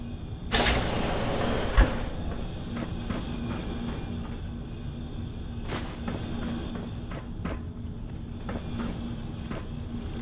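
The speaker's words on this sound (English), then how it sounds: "This door's on the fritz. Let me see if I can get it open." In Fallout 4, a malfunctioning vault door heaves open with a loud mechanical slam. A grinding, rumbling hum follows, broken by intermittent clanks and knocks, and no one speaks.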